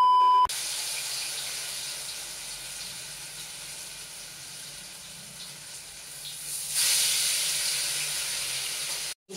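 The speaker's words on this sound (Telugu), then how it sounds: "ఆ తర్వాత ఆ బాండీలో ఆ చేపలు అయితే వేయాలి" Fish dropped into hot oil in a frying pan gives a steady loud sizzle and hiss that builds and brightens partway through, with a brief beep near the start.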